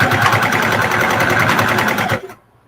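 A sewing machine stitches a fabric arm nursing pillow, a loud, fast, even needle rhythm running close up before it stops abruptly near the end.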